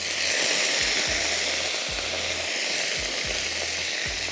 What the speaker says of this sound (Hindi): हमने बघार डाल दिया।